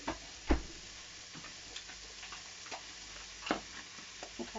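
Butternut squash frying in a pan, a faint low sizzle broken by a few scattered clicks and taps, probably from stirring.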